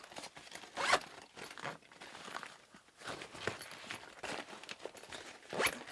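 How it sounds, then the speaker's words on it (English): Zipper pulled shut around a small star-spangled popsicle cooler bag in several short rasping runs, close and moderately loud, with no talking. "I'm going to zip it up."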